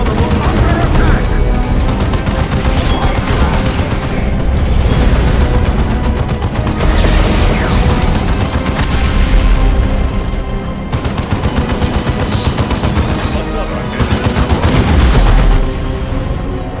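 Dense battlefield gunfire from the Warhammer 40,000 strategy game Dawn of War 2: Chaos Rising, with rapid bursts and booming impacts running loud and continuous, and brief unit voice lines breaking through.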